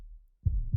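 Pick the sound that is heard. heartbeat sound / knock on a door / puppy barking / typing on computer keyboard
heartbeat sound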